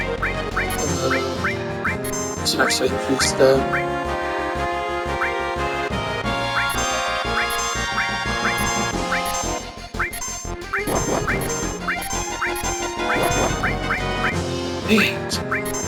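A goose quacks repeatedly in a Final Fantasy VII beach scene, a run of short honking calls over busy game music with other effects, while someone talks briefly.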